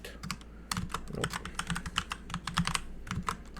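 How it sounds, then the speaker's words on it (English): Rapid, irregular clatter of keys on a computer keyboard, close and steady across the whole stretch with no voice, a few louder key strikes standing out from the run. "Come on, I'm bad at typing, apparently."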